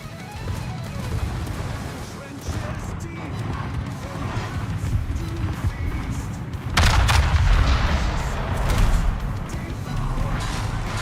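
Heavy naval gunfire from the battleship North Carolina in a warship battle game, with low booming broadside blasts swelling into a loud rumbling salvo partway through, under a steady background of battle noise and someone talking.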